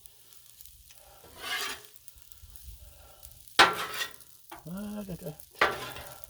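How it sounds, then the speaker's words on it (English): Shrimp stir fry sizzles on a Blackstone griddle while a spatula scrapes and stirs it in a few sharp bursts over a low hiss, with a voice briefly humming nearby. "And I'll give this a stir."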